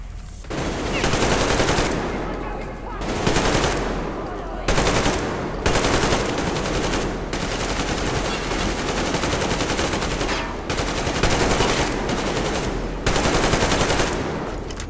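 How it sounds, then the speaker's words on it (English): Sustained bursts of heavy machine gun fire from a Metro Exodus battle, loud and close, rattling in long volleys broken by short pauses, with faint shouted voices under the din. "They got the machine gun!"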